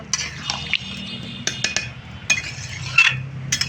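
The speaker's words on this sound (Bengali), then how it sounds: "একটু বাটি ধুয়ে জল দেবো আমি।" A bowl is rinsed and water poured in while cooking a ripe jackfruit-fibre curry, with scattered clinks and knocks of dishware over soft splashing and trickling liquid, close by and without speech.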